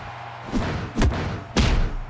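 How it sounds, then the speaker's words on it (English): Shooting star press landing in the WWE Mayhem wrestling video game: three heavy, booming thuds in quick succession, each a loud impact slam on the ring with a short rumble after. "Shooting star press connects from AJ Styles."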